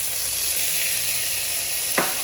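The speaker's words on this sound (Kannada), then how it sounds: "ನೆಕ್ಸ್ಟು ಟೊಮೊಟೊ ಆ್ಯಡ್ ಮಾಡ್ಕೊತಾ ಇದ್ದೀನಿ" Tomato going into a pan of frying onions: a steady, close hiss of sizzling oil throughout, with one brief scraping stir near the end and no talking.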